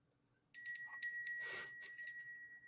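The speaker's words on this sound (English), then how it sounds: "Brass bell." A small brass bell, a gift, rings several times in quick bright strikes, close and clear, with a sustained metallic shimmer between strikes.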